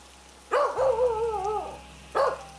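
A pet dog barks fiercely toward a bedroom window on a stormy night of heavy wind and rain, giving two short sharp barks around a drawn-out howling, growling cry, loud and close over a low rumble.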